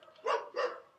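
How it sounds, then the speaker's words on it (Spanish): Two short, fairly loud dog barks in quick succession, the second trailing off, from dogs somewhere nearby with no talking over them. "ya se fueron los perros, ¿no?"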